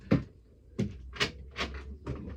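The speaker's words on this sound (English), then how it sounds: "I went and shut that door off" A door is pushed shut with a series of five sharp knocks and rattles spaced roughly half a second apart, close and fairly loud.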